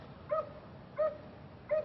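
Dogs stranded in Florida floodwater give three short, high whimpering cries, spaced evenly about every 0.7 seconds over a steady low background hum, fairly close and moderately loud.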